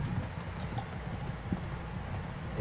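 A horse's hooves clip-clop in a steady, continuous rhythm while riding in the video game Black Desert. The hoofbeats are moderately quiet over a soft background.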